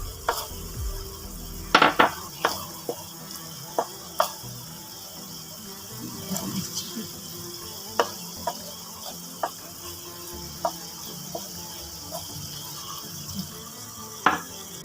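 Garlic goes into oil with lightly golden fried onions for bhindi masala, making a continuous moderate sizzle broken by regular clicks and scrapes of stirring in the pan.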